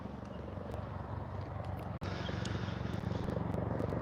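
A helicopter flying overhead, its steady low rotor throb filling the scene continuously at moderate distance, with a brief dip partway through before the drone resumes.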